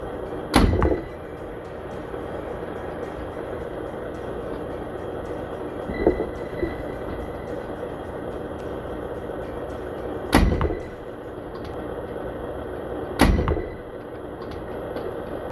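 Arrows fitted with Red Trail Archery size 27 shafts strike a target in a sharp, loud impact, then more hits follow several seconds apart, each standing out over a steady outdoor background hiss.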